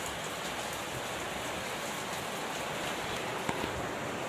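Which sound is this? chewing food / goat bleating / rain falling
rain falling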